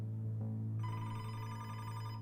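A telephone rings steadily with a bright electronic trill, sustained and fairly quiet, heard alone with no one talking.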